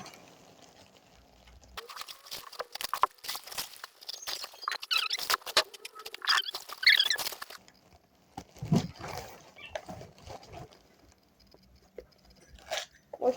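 Packaging of a new computer keyboard being torn and opened, with crinkly rustling and scratchy bursts in several clusters, close and moderately loud, with quieter gaps between.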